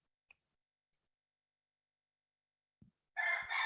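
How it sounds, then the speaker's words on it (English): Roosters crow in the distance after a long near-silent stretch, a single loud cock-a-doodle-doo arriving at the end, preceded by a few faint isolated clicks. "It's phenomenal what's coming through as the roosters come back in."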